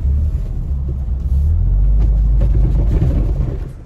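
A car drives along with a steady, loud low engine rumble that holds throughout and fades slightly at the end, with no talking.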